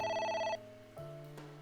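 A phone rings in AI: The Somnium Files: a bright electronic trill sounds first, then gives way to a lower sustained tone, each note clear and fairly loud with nothing else around it.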